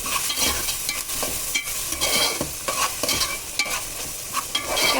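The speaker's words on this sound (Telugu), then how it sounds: "ఇప్పుడు కలిపేసుకున్నాను." A spoon stirs onions with salt in a frying pan. The scraping comes in repeated rhythmic strokes over a steady, close sizzle, with no talking.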